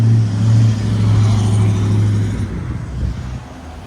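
Cars drive along a road in New Zealand, giving a steady, loud rumble of engines and tyres close by, with a low droning hum that eases slightly toward the end.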